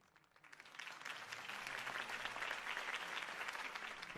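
Dense, sustained crowd applause and cheering after a campaign speech in a Batman Telltale video game scene. It swells in the first second and then holds steady and loud to the end.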